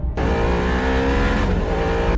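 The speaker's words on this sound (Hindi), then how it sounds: "लेकिन शैलेश गाड़ी की स्पीड बढ़ा देता है" A car engine revs hard and speeds up in a horror cartoon, a loud, close roar that climbs steadily in pitch after a sudden start, alone without speech.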